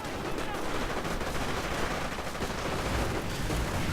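Dense, continuous gunfire from rangers and riflemen attacking in a World War II strategy game, a loud unbroken crackle of rifle and machine-gun shots that fills the scene from start to finish.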